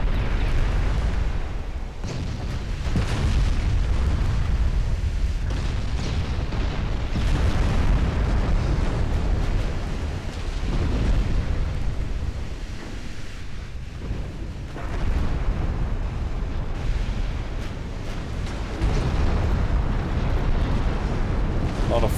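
Heavy 15-inch naval guns in a naval warfare video game boom repeatedly with shells bursting, a dense, loud, rolling barrage of deep explosions that barely lets up.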